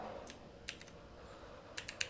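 Typing on a computer keyboard while a kubectl command is entered, a few scattered key clicks and then a quick cluster of taps, light and close over a low steady hum.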